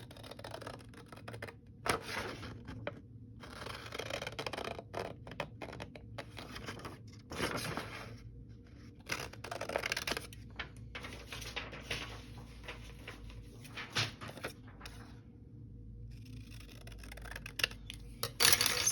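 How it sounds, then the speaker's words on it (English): Scissors snip through paper while a collage piece is cut out by hand, giving close, irregular crisp cuts and rustles with short pauses between them. "I'm going to cut this one out and see if I can make this one fit right"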